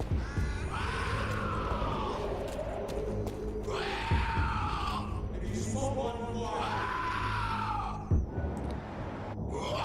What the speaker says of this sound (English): Do you guys not hear the shrieking?